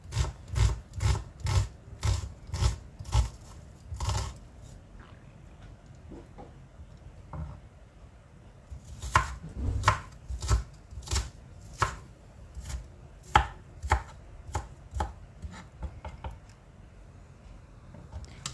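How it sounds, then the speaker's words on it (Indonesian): Onion being sliced with a knife on a board, a fast run of crisp, regular chops, then a pause with faint rubbing before the steady chopping resumes at a slightly slower pace, close and clear. "Kemudian ini bawang bombaynya juga saya iris-iris."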